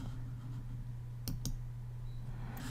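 A couple of sharp mouse clicks on a Hillstone Networks firewall management interface, close and quick, over a steady low computer hum.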